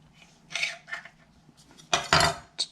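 Knife cutting strudel pastry dough into strips about an inch apart, heard as several separate scraping, clinking strokes against a board or pan with brief pauses between them, close and fairly loud, no talking.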